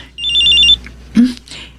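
A mobile phone rings close by in a Filipino radio drama, one trilling electronic ring burst followed by a short thump and a quiet rustle.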